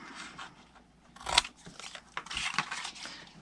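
Scissors snip through scored card in a few short, crisp cuts, close and quiet, with faint crunchy paper handling between strokes.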